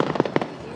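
Fireworks bang over Derry city centre at a Halloween parade, a few sharp booms in quick succession against a distant crowd murmur.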